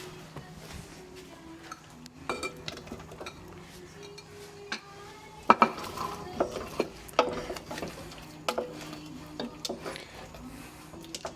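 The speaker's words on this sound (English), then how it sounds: "then we're going to stir fry the capsicum and the onion" Capsicum and onion stir-frying in a pan for sweet and sour tofu, with scattered metallic clinks and scrapes of utensil against pan over a low sizzle, several sharp clatters in quick bursts.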